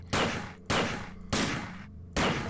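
Four loud pistol shots from System Shock 2 fire in an even rhythm, each a sharp crack with a short ringing tail, close and clear with no talking over them.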